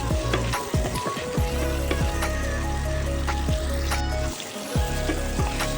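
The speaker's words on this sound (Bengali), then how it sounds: "পেঁয়াজটা কিন্তু ভালো করে ভেজে নেব" Onion frying in a pan with salt and black pepper powder, a steady close sizzle with stirring scrapes running throughout, no talking.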